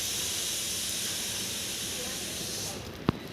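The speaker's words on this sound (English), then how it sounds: "I'm going to flip it and toast it on the other side" A chocolate cheese sandwich toasting in a pan on low flame: a steady, close sizzling hiss that runs throughout and fades slightly near the end, with a single sharp knock just before it stops.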